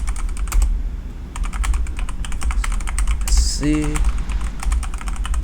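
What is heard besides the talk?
typing a command on a computer keyboard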